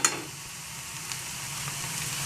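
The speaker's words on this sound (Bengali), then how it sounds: "এবার ভালো করে আবার নাড়িয়ে নিচ্ছি।" Thor chechki, a banana stem stir-fry with ghee, sizzles steadily in a pan, a constant frying hiss with a faint scrape of stirring near the start.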